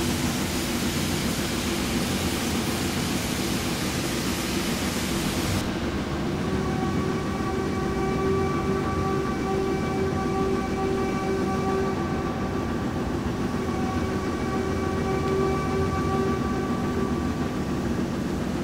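A Black Five steam locomotive in a railway video game, running through a tunnel: a loud, continuous, dense roar with sustained tonal whines layered over the rumble throughout, with no voices.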